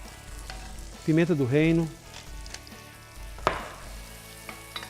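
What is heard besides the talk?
onion sautéing in olive oil with salt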